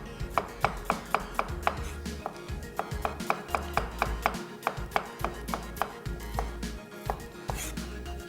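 A knife slicing two onions on a cutting board during Mutton Mewa Pulao prep, with rapid regular chops close by, about two strikes a second and short pauses between runs.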